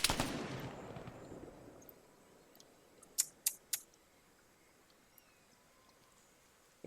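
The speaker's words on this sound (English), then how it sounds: "so Ghost Warrior fired a shot" A single gunshot fires in an Arma 3 combat mission and fades into a distant rolling echo, followed by a few sharp, fainter cracks further off, with quiet field ambience around.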